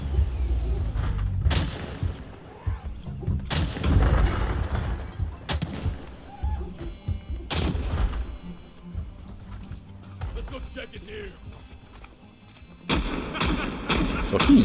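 Video game gunfire: several heavy booming shots spaced a couple of seconds apart, then a quick rattling burst near the end, loud and close with game background sound between.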